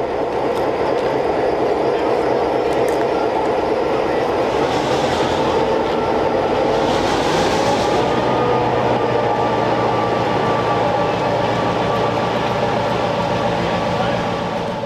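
A vintage MY diesel train arrives at Tønder with a loud, continuous rumble of engine and wheels on rail, heard from on board with no break in the noise.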